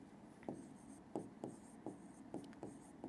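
Chalk or marker strokes on a board during a physics lesson, six or seven short scratchy bursts in an irregular rhythm, close and fairly quiet, with no voices.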